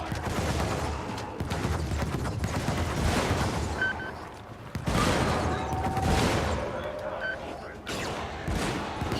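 Gunfire from a video game battle with anti-tank units, a dense fusillade of shots and blasts that runs for the whole span, loud and close, with talk over it.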